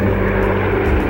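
A supply transport plane drones loudly and steadily overhead, its propeller engines producing a dense, continuous roar with no pauses, close and full throughout the short stretch.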